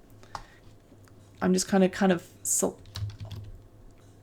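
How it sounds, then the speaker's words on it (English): Mouse clicks and computer keyboard keystrokes while working in 3D modeling software on a cake model, with a few sharp, scattered clicks under and between a man's close, quiet speech. "clicking in the viewport to make sure it's active"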